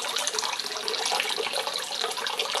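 Water pours steadily into a container at roughly a quart per minute, a continuous close hiss and splash with no break.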